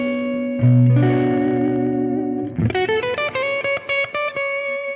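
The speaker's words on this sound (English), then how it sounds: "if I play the ninth, that note in the melody" Electric guitar through effects with distortion, reverb and chorus: a sustained low chord rings, then a string of clear, rhythmic picked melody notes with a ninth lands over it, close and fairly loud.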